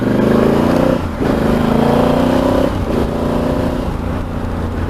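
A motorcycle engine revs hard and steadily up close, with brief drops between rising pulls, loud and alone with no talk.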